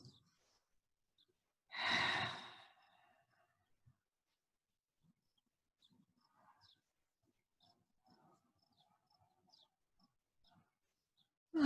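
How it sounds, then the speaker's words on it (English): A single deep breath drawn and released during quiet meditation, a brief broad breathy rush near the start, followed by near silence with only faint small rustles. "Just taking some deep breaths."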